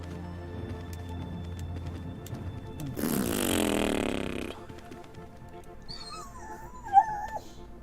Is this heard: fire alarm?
no